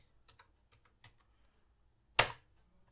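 A handful of light, scattered keystrokes on a computer keyboard while typing into a search bar, followed by one loud, sharp key strike, all in an otherwise quiet room.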